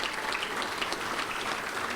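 Applause from a packed audience at a touchdown club luncheon fills the room with a dense, steady clapping that holds at even loudness throughout.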